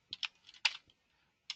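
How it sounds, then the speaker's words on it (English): Short bursts of typing on a computer keyboard, a few quick close key clicks, a pause, then one more tap, quiet and alone. "So I'm going to start typing hello."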